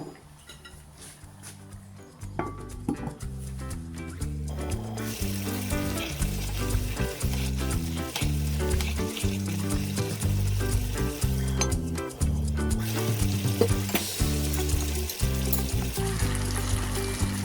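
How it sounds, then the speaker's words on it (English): Meat pie filling sizzles steadily in a pan on the stove after water is poured in and covered, a continuous frying hiss with occasional clinks, under background music, with no talk. "Pour in some water, cover it up,"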